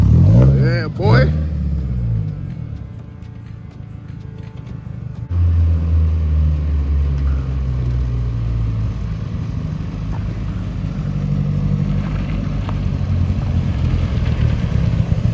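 Nissan 240SX S14 car engine rumbles steadily from inside the cabin while driving, a low droning hum that deepens midway, with people talking over it.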